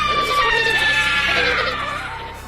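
A story sound effect of passengers screaming in terror at a witch aboard a ship: several shrill, overlapping screams that hold steady, then trail off and fade toward the end.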